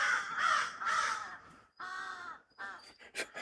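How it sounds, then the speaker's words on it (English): Several crows caw outside, a series of loud, harsh repeated calls in uneven bursts with short gaps, close and clear with no talking. "Apparently, we're being swarmed by crows right now"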